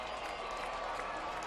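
Crowd at a 2006 Delaware State vs Northwestern State college football game roars and applauds before a fourth down, a dense, steady wash of cheering with no breaks.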